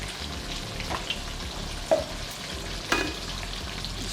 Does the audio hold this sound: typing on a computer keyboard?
no